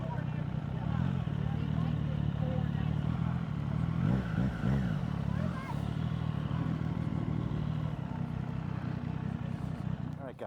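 Many motorcycles idle and rumble together at a crowded bike rally, a dense continuous engine drone with scattered revs and clatter, steady and loud throughout, with background crowd babble.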